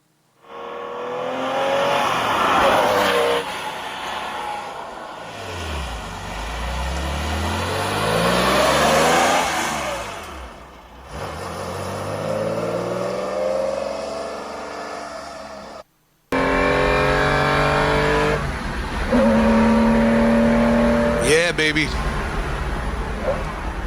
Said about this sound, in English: This car is a 3-liter hot rod 912.